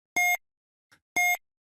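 Two short electronic timer beeps about a second apart, each crisp and loud with a small click between them, then silence.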